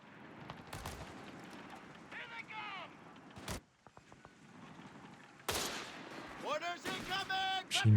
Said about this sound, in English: Machine gun setting up.